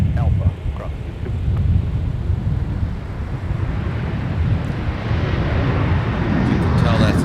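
A Boeing 737-700 departing for Denver from runway 12 Right at MSP airport, heard as a broad, steady jet roar that swells slightly toward the end, with a voice talking over it.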